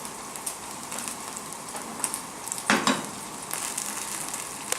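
An egg fries in a pan while hash browns are being made, giving a steady close crackling sizzle with a brief louder burst of spitting partway through.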